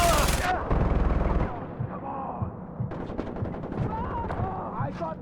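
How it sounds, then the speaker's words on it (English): A mounted machine gun in Far Cry 4 rattles in a loud rapid stream at the start, then fire continues in scattered bursts under voices and other battle noise. "I got the mounted gun!"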